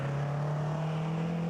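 A 4.2-litre four-cylinder Offenhauser-engined race car, built for high-speed ovals, blasts across the finish line at a hillclimb, its engine a loud, steady sustained drone close by with no speech over it.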